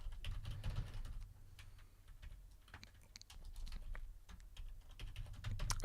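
Fingers type on a computer keyboard in quick, irregular bursts of soft clicks, fairly close and quiet, with brief pauses between runs of keystrokes and no talking.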